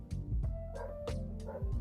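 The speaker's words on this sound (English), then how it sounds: "my dog" A dog giving a run of short yipping barks, about five quick bursts close by in uneven rhythm, with faint whimpering between them.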